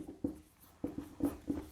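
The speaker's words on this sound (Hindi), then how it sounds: "पहले तो मैं डेट लिख देता हूं" Pen strokes writing out a date, a quick run of about five short, distinct scratching taps in an uneven rhythm, close and clear against a quiet background with no talking.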